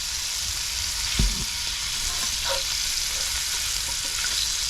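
Shrimp fry in burger grease on a hot camp griddle outdoors, giving a constant hissing sizzle with a few soft clinks and scrapes, steady and fairly close.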